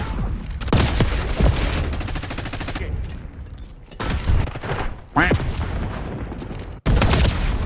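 Gunfire in a Treyarch shooter game: loud bursts of automatic fire and rapid shots come in several clusters with brief lulls between, close and punchy, with a few heavier thuds mixed in.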